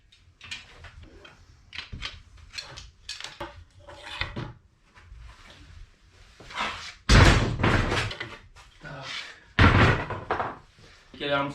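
Clamps being loosened on glued wooden door parts in a workshop, with several sharp knocks and thunks of wood and metal, some loud, scattered between stretches of someone talking.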